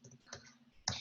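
A few quiet keystrokes on a computer keyboard, two or three soft clicks followed by a sharper tap near the end, spaced irregularly.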